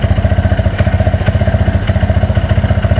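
KTM LC4 640 single-cylinder thumper motorcycle engine running after being started, a loud, close, steady low-pitched chugging with rapid even pulses and a slight clatter, heard alone.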